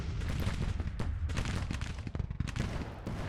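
Artillery bombardment in the Civil War strategy game Grand Tactician: a steady, dense barrage of cannon fire and distant booms rolling continuously, with overlapping shots and no talking.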